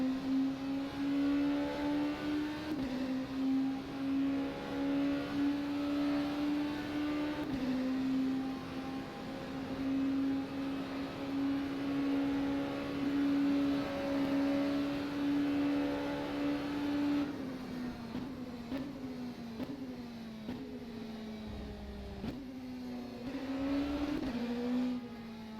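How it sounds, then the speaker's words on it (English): A race car engine in rFactor 2 on the Le Mans track drones at a steady high pitch, then dips and climbs through several shifts near the end, loud and close with no talking. "Absolutely underestimated the power of my engine."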